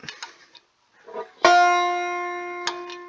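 After some faint handling noise, a single banjo note on the first string at the third fret is picked sharply and sustains with a slow fade, followed by a couple of soft clicks.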